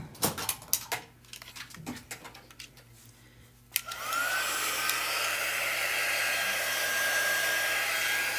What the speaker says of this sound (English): I am going to start drying this.